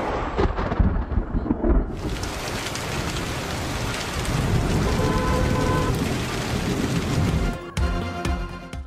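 Heavy rain pours steadily onto surfaces during a thunderstorm in Peshawar, with loud rumbling thunder rolling beneath the downpour and a sharp change in the storm's texture near the end.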